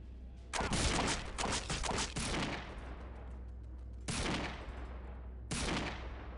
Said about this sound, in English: We can handle it with sniper rifle.